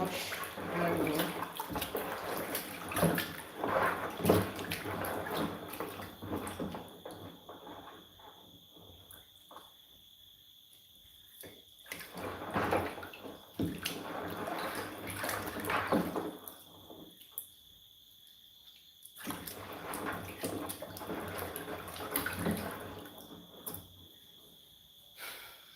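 Water sloshes and splashes as ingredients for Nigerian oha soup, salted beforehand, are washed by hand in a bowl, coming in bursts with quiet pauses between them and faint background noise.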